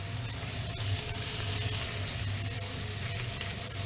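A turbot fillet sears in a very hot, smoking pan, giving a continuous loud sizzle and crackle of fat that stays steady throughout, close and with no talking.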